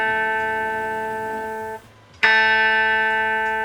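The B string of an electric guitar in down-tuned D standard sounds as a sustained clean note, drops out briefly near the two-second mark, then is picked again and rings on loudly by itself.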